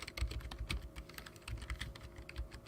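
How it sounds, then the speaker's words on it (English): Fast, uneven clatter of fingers typing on a computer keyboard, close and fairly quiet, with irregular bursts of keystrokes and no voices. "Who's typing? Is that you typing?"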